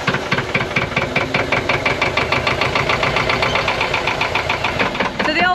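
A narrowboat's engine runs steadily after starting, a close, loud diesel chugging with quick regular knocking beats that hold an even rhythm throughout.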